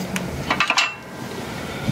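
A tractor fuel filter bowl is wiped out with a few quick clinks and scrapes up close, followed by quieter faint rubbing and no speech.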